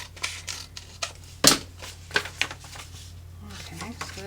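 Scissors snip through the top of a paper envelope in a few quick, crisp cuts, one sharp loud snip standing out among softer rustles and handling noises close to the listener.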